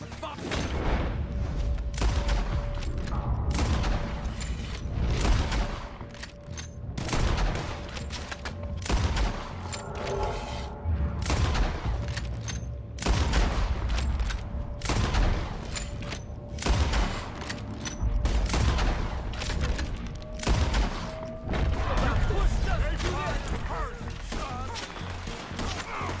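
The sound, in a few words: gunfire in a shootout in the video game Red Dead Redemption 2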